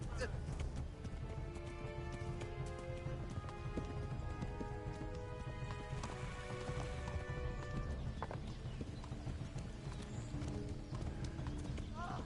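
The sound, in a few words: horse galloping in a video game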